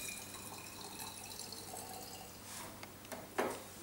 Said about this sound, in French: Donc là, on va au cubi prendre un petit peu d'eau distillée.